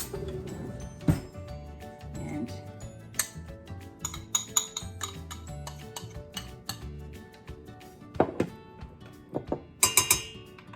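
A spoon clinks and taps against bowls and dishes while sticky toffee pudding batter of butter, brown sugar and cream is prepared, with scattered sharp clinks, scrapes and a quick cluster of rattling hits near the end.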